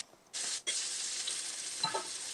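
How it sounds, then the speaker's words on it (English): Freshly fried latkes sizzle and hiss steadily as hot oil drains from them, a loud continuous crackle broken by a brief pause near the start, with no talking. "what I'm doing now is I'm draining the oil"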